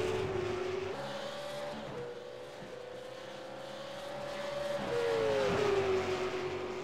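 V8 Supercar race cars lapping Monza in the iRacing sim, engines droning at steady high revs with pitch shifts as gears change, a continuous close roar with several cars layered together.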